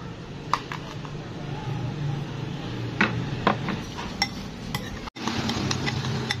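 Sliced banana stirred with brown sugar in a container for fermented fruit juice, giving soft scattered clinks and scrapes of a utensil against the vessel over a low steady background.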